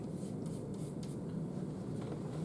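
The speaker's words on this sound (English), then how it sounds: "I'll just write to you" Steady scratchy rubbing of pen or marker on a writing surface during a lecture, continuous and fairly quiet with no talking.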